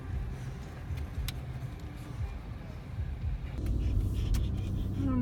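Car on the move in overcast, misty weather, a steady low road rumble running throughout and growing slightly heavier near the end, with no one talking.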